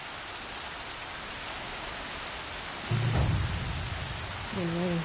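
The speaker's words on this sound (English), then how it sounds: "Been waiting for the storm to hit." A steady hiss of heavy rain during a storm in Horizon Zero Dawn, fairly close and constant, with a brief low rumble midway and a faint tonal sound near the end.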